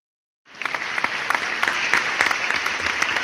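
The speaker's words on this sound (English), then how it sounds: "Listen to the applause." Applause from a crowd starts suddenly as a sound effect on a sports radio show and carries on as a dense, steady wash of many clapping hands at even volume, with a few sharper claps poking out.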